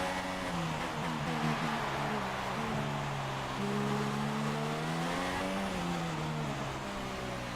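F1 car in the video game F1 2016, a continuous high engine drone whose pitch rises and falls as it accelerates, heard up close with a steady background rush.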